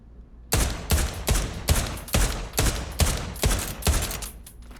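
Pistol shots fired in Pavlov VR, a rapid string of about nine loud, sharp reports in an even rhythm, each with a short decay, and no talk over them.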